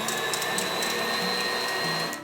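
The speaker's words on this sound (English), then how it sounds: "my stand mixer" A stand mixer whips heavy cream to stiff peaks, its motor giving a loud, steady whirring drone with a faint rhythmic beater clatter that winds down at the very end.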